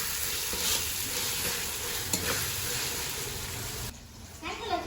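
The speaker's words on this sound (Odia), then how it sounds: "ୟାକୁ ଏବେ ଭଲସେ କଷିଦେବା ଯେତେ ପର୍ଯ୍ୟନ୍ତ ତେଲ ନ ଛାଡ଼ିଛି।" Masala paste frying in hot oil gives a steady, loud, close sizzle with scraping stir strokes, then quiets slightly near the end as the spatula pauses.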